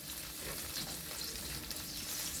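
Onions wilting down in a hot pan, frying with a soft, steady sizzle and light crackle throughout, fairly quiet and without talk.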